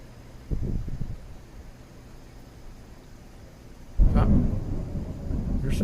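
Thunder rolls in from a thunderstorm under steady rain hiss: a short rumble early on, then a sharp, loud crack and long heavy rumble that carries to the end.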